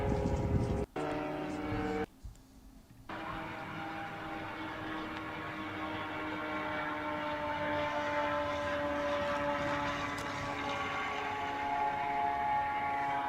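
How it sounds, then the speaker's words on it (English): A Ukrainian Bober or Lyutyi drone drones steadily overhead, a continuous propeller-engine hum holding for the whole stretch with a brief dropout near the start, moderately loud and unbroken. "That's either Bober or Lutey, a Ukrainian drone over there."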